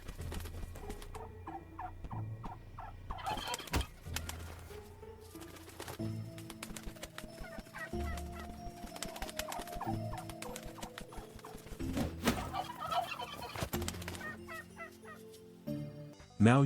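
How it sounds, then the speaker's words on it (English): Turkey gobbling in the Roblox game Block Tales during a turkey boss fight, with repeated rattling gobble calls over busy game music and effects, steady and fairly loud throughout. "Now you have to fight the turkey"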